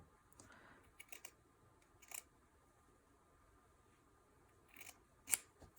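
Scissors trimming a textile scrap for a small pendant, giving a few soft scattered snips and one sharper cut near the end, quiet and close with no talking.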